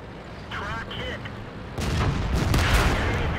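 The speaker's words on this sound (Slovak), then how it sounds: "on do nás začal strieľať normálne náboje" Tank cannon fire in a World of Tanks battle: quieter battle noise with a voice gives way midway to a loud, sudden blast followed by sustained rumbling and crackling.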